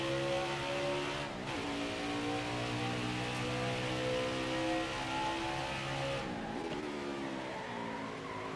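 A race car engine roars at Watkins Glen in NASCAR Heat 5, a sustained high revving whine that drops sharply at two gear shifts before climbing again, loud and continuous.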